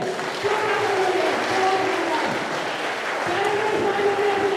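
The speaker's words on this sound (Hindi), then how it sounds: "जोरदार ताली है मेरे लिए" Loud applause from a crowd of students at a school yoga workshop, a dense sustained clatter of clapping lasting several seconds, with voices mixed in.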